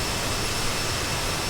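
Jet engine of a CRJ regional jet in Microsoft Flight Simulator 2020, running as a steady, loud, broadband roar with a thin high whine, unbroken through the short stretch and heard alone.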